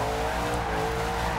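Bumblebee Camaro Z/28 American muscle car drifting in Forza Horizon 2, a loud steady engine roar with continuous tire squeal running throughout the short burst, no voices.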